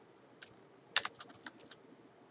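Arduino code is typed on a computer keyboard: a quiet, irregular run of close key taps with a few sharper, louder strikes, over a low background hum.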